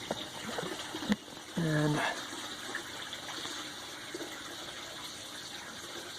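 A gem silica specimen dropped into a liquid gives a brief splash and a bubbling gurgle lasting under half a second, then a low, steady fizz under faint background noise.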